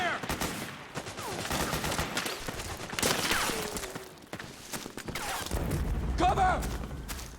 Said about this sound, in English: Suppressing fire!